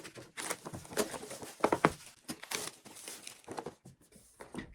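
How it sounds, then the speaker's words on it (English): A Turtles candy wrapper being unwrapped, giving close, irregular crinkling and tearing bursts that come and go over a few seconds with short quiet gaps. "Okay, now that I've unwrapped this,"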